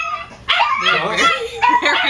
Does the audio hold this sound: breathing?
no